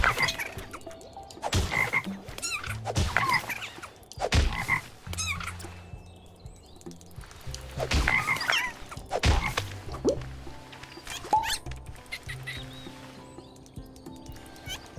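Repeated frog croaks from a video game, a series of loud, rhythmic croaking bursts with short gaps between them, heard clearly over a steady low background hum.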